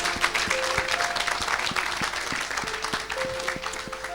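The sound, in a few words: crowd applauding Jesus Christ in church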